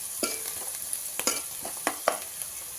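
A spatula scrapes and stirs through sizzling onions and fish with turmeric and salt in a frying pan, sharp clinks and scrapes at an irregular rhythm over a soft steady sizzle.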